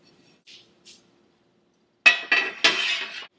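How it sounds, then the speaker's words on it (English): An Ebelskiver pan set down on a stove, a few sharp metallic clanks and rattles close by after near silence and two faint earlier taps. "we're going to take the Ebelskiver pan, and we're going to put it on the stove on medium heat"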